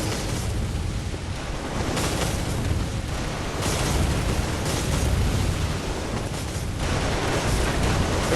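Dense, continuous roar of turret gunfire and overlapping explosions in the game Bloodborne: The Old Hunters, loud and sustained throughout with heavy booming bursts and no break.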